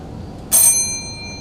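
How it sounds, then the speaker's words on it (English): A bicycle-style bell is struck once to signal time during a technical paper presentation, ringing loud and bright with a sustained metallic tone that fades slowly over the following second. "First bell is already given by the sir."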